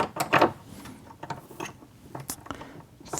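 A ring bending tool's handle is cranked to bend metal wire round into a ring, giving a run of close, uneven mechanical clicks and ratcheting creaks, loudest near the start and recurring in short bursts.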